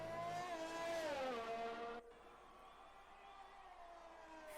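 A race car in an Xbox racing game corners at the Italian Grand Prix, its engine whining high and dropping in pitch under braking before a cut, then a lower steady drone, loud and alone.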